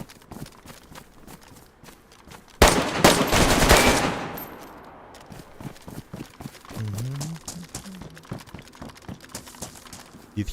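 Burst of loud rapid gunfire in the survival game DayZ on the Livonia map, a sudden intense volley followed by scattered shots and movement sounds, with brief talk afterward.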